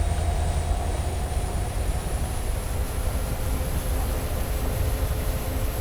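Cooling fans spinning up on a locomotive in a train simulator game, a steady dense whir with a faint high whine, held at constant level throughout with no talk.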